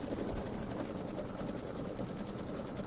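Sewing machine running steadily while quilting a table topper, a continuous close whirring hum with fine rapid stitching pulses throughout.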